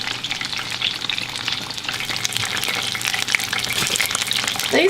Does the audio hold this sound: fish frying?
yes